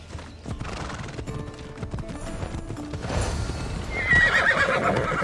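A horse gallops in a race in Assassin's Creed Odyssey, its rapid hoofbeats drumming close and steady, swelling louder toward the end as a whinny rises over the pounding.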